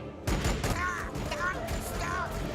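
A squad in Warhammer 40K: Deeds of the Fallen fires a gunfire volley, with a sharp crackling burst of shots followed by repeated whooshing projectile sweeps and steady battle noise.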